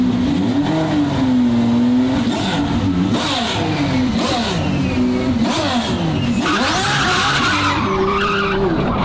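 Twin-turbo Ferrari F12 driving hard, its engine revving and rising in pitch through repeated throttle bursts, with tires skidding and squealing loudly up close over several seconds.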